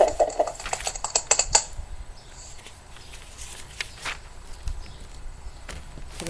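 Someone typing hard on a computer keyboard, a quick flurry of loud clacking keystrokes at first, then sparser, fainter taps over a low background hum.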